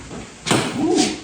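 A door opening on an 80s Chrysler turbo car, a single close thud and latch clunk followed by a short creaking swing, with a faint voice at the end.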